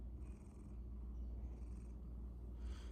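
A female cat purrs contentedly while settled on her owner's lap, a soft, steady low rumble rising and falling with each breath, close and quiet with no talking.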